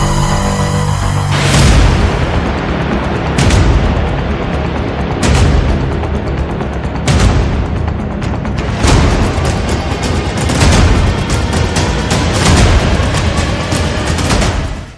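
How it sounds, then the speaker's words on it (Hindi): Heavy explosions from Israeli strikes on Hamas positions roll through a dense, loud wall of noise, with repeated deep booms every second or two, continuous rumble between blasts and no speech. "इजरायल के हमले में हमास का एंटी टैंक मिसाइल ठिकाना तबाह।"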